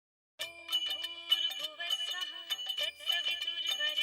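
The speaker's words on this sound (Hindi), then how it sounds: "माधवी का फोन है।" A phone rings with a bright electronic melodic ringtone, steady and continuous after a short silence, moderately quiet and alone in an indoor scene.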